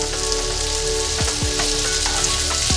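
Garlic butter shrimp frying in a pan, a steady loud sizzle with scattered pops and crackles as pieces are turned, close up and without talk.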